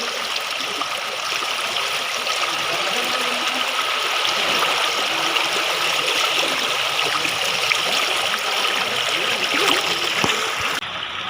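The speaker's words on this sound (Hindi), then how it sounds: "पूरा फोर्स के कारण पानी इधर चल रहा है।" Floodwater surges with full force through a flooded ward, a steady, loud, broadband roar of rushing water that stays continuous and unbroken for the whole stretch.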